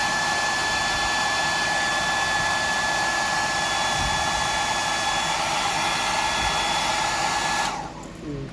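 Steady, loud whir of a hair dryer blowing air close by, running continuously for several seconds before cutting off near the end, with no voices.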